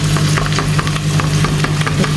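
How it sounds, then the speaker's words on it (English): Steady, loud sizzling and frying as rice goes into a pot with marinade for an African meal, crackling continuously with small stirring clicks throughout and no talk. "I'm going to just go ahead and add my rice now."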